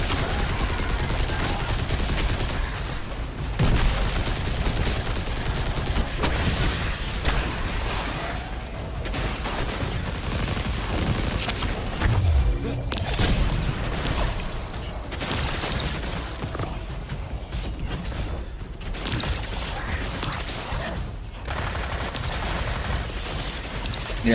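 Rapid bursts of video game gunfire crackle continuously with mechanical clatter over a dense, steady mix, loud and sustained throughout, with a voice briefly talking.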